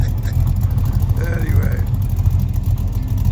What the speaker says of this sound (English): See, mine just idles right off. I got such a hot engine.